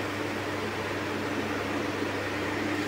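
A pneumatic air gun on a recoil hose with a quick-release coupling blows compressed air in a steady, loud hiss that holds evenly throughout, with no talking.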